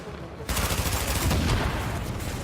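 Rapid bursts of automatic gunfire in The Division video game erupt after a brief quiet moment, a dense, loud, continuous rattle of shots filling the rest of the moment.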